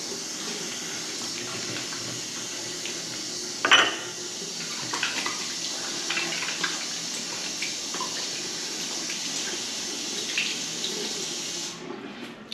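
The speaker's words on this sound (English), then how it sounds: "Gotta wash the hands before you touch your face." Hands are washed under a running sink tap in a home bathroom, a steady hiss of flowing water with brief splashes and a clatter near the start, close and alone without talk.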